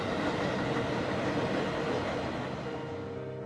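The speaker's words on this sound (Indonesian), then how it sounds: "KRL 1156 berjalan di petak stasiun Sawah Besar hingga stasiun Juanda" A KRL 1156 commuter train in a train simulator game runs on a winding curve between Sawah Besar and Juanda stations at 45 to 50 km/h, a loud steady rumble and rolling roar that eases off slightly at the end.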